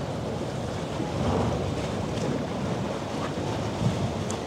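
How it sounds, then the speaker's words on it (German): A pilot boat's wake wave slaps against the hull of a large ship, a broad rushing surge of water thick with wind noise, cresting briefly and settling back into steady sea wash. "Das ist die berühmt-berüchtigte Lotsenwelle."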